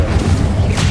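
Incendio fire spell cast in Hogwarts Legacy, a short, loud whooshing burst with a booming low-end thump, lasting under a second with no talk.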